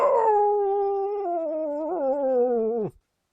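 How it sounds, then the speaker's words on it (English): An abandoned dog lifts its head and lets out one long, sustained mournful howl, loud and close, wavering slightly in pitch before breaking off abruptly. "lifting his head, he howls, the long plaint of the abandoned dog"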